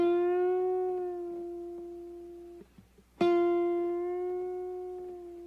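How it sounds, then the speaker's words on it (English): Two plucked guitar notes on the second string at the 7th fret, each bent up a semitone and released back down; the first rings and fades, then a brief pause with small noises before the second sounds louder and decays. "That is a semitone bend and release."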